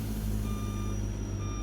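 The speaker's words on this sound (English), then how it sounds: "I'm gonna just back up a little bit, because this is a pretty long wheelbase truck" Steady, regular reversing beeps from a long-wheelbase custom Peterbilt 389 truck in American Truck Simulator, repeating tones over a constant low engine hum, close and even throughout.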